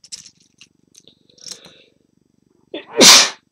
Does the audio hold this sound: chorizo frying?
no